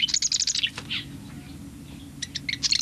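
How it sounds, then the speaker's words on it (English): Canyon wren song in its year-round habitat: clear, high descending whistled notes in quick bursts, a phrase at the start and another at the end with a quieter gap between, fairly close and alone. "the canyon wren is a permanent resident, and it may sing at any time of the year"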